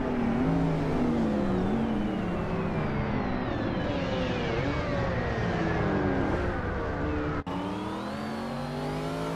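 A 1990 Chevrolet Corvette C4ZR1 races on the Rio de Janeiro reverse track in a video game, a steady loud engine whine rising and falling among other cars, with a brief cut near the end.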